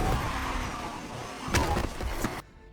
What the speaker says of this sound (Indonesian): mobil mereka menabrak seseorang